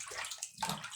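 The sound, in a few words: water running while washing ground beef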